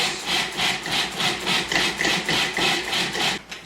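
A food processor chops raw vegan mock tuna made with dulse, a loud, close whirring that chugs in rapid, even pulses of blades thumping through the coarse mixture.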